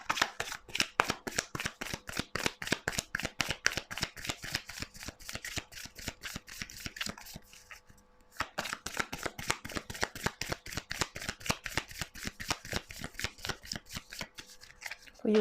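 Tarot cards being shuffled for a reading: a steady run of crisp, close riffling strokes, briefly pausing midway before the rhythmic shuffling resumes.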